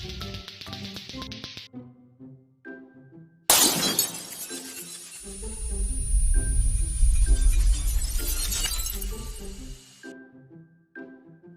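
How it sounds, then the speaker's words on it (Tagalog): Glass breaks with a sudden bright crash in a Filipino cartoon about a school lato-lato challenge, its shattering and tinkling spreading for several seconds over a low rumble, framed by light plucked cartoon music. "nabasag yung salamin"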